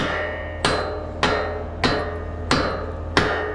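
A rock strikes metal farm equipment in five sharp, ringing blows spaced about half a second apart, loud and close, each hit decaying into a metallic ring over a low steady engine rumble.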